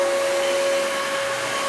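A vacuum cleaner, a Hoover WindTunnel 2 Rewind Pet or a Dyson DC33, runs steadily with a loud, constant motor whine and airy rush, close by and alone.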